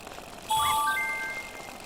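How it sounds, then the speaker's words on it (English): A bicycle bell rings in the video game Wii Fit U, a bright chiming ring with a few overlapping tones that starts partway through and fades over about a second above a low game background. "So I ring the bell"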